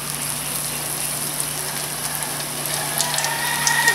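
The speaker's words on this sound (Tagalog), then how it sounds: "So, mag-ready na tayo magprito" Lumpiang ubod sizzles in hot oil in a pan, a steady dense crackle and hiss with a few sharper pops toward the end, with no talking.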